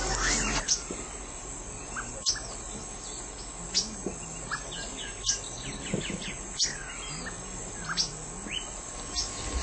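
A sabiá thrush calls in the morning in Brazilian countryside, repeated bright whistled phrases and chirps recurring every second or so over a steady bed of insect and cricket trill, fairly close and clear.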